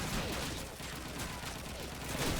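Dense gunfire from Call of Duty 2 on the Burgundy map rattles continuously through the whole stretch, loud and busy, with faint voices mixed in.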